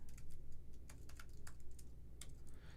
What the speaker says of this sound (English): The live streaming has caused me to realize how bad I am at typing